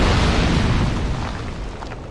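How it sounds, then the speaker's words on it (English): An exploding barrel in the video game Dark Souls 2 bursts with a loud, close boom that rumbles heavily and then decays into a fading roar, with no voices. "Now check out the sound of an exploding barrel."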